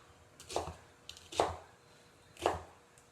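Knife slicing through onion on a cutting board, three separate crisp chops spaced about a second apart, close and clear against a quiet room.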